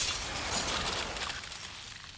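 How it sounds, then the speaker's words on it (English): Glass shattering in a dramatic sound effect from the Tsukihime Remake visual novel, a dense crash of bright shards that bursts loud and sustained before thinning out over a couple of seconds, with no voices. "The sound of shattering glass echoes through my body"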